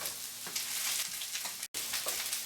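Ham fried rice ingredients going into a hot pan with a steady loud sizzle, punctuated by a few stirring scrapes and a brief silent break near the end.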